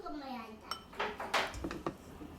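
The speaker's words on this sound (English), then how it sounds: "Serve in a dish." Roasted corn rice clattering into a serving dish with several short clinks and scrapes of a utensil against the dish, close and moderately quiet, in a kitchen.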